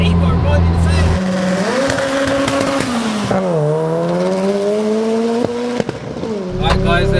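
A 414 bhp turbocharged Lotus launching hard, the engine droning and climbing through rising revs with gear-change dips, loud and close from inside the car, with voices talking over it.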